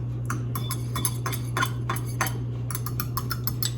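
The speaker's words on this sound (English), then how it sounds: "we're going to mix this together" Ingredients being mixed in a bowl, with a utensil scraping and clinking against the bowl in quick repeated strokes over a steady low hum, close by and moderately loud.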